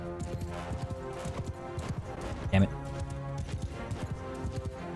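Horses in the Mount & Blade II: Bannerlord battle galloping, rapid hoof clip-clops drumming under a man's brief muttered speech, with a short loud impact thump midway and continuous battle noise around.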